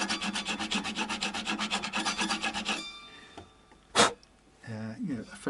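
A file rasps across the nut of a Vintage V6 guitar in steady, rhythmic back-and-forth strokes for about three seconds, followed by a short sharp knock and some quiet handling noise.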